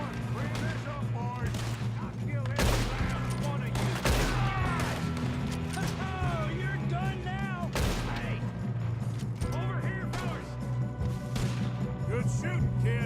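Repeated loud gunshots ring out in a Western-style gunfight in Red Dead Redemption 2, scattered across the scene over game music and voices.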